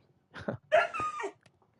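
In the Minecraft video game, a pet dog gives two short whimpering whines close up, with near silence around them.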